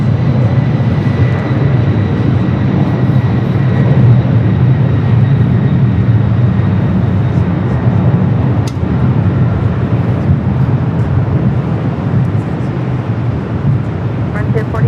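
An Alaska Air jet airliner at LAX rolling down the runway: a steady, loud low-pitched engine roar that holds throughout, with faint higher whine above.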